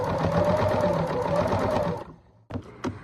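A sewing machine stitches a seam on a pillow in a rapid, steady mechanical chatter for about two seconds, then stops, followed by a few clicks and handling knocks.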